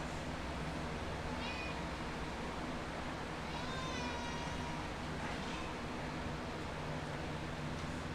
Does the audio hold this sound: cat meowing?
yes